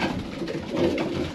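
Pigeons in a breeder's loft coo softly and continuously, a low rolling murmur of several birds close by with no talk.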